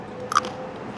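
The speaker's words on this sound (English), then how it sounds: "Nice crunch in that with that bite of the sandwich." A single crisp crunch as teeth break through the hard crust of an Italian sandwich on crusty bread, brief and close against a soft restaurant murmur.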